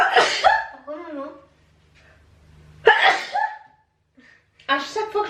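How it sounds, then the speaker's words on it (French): Someone sneezes after spraying perfume: three loud, close vocal sneezes separated by short pauses, the first trailing into a breathy sound over a low hum. "À chaque fois que je me parfume, j'éternue."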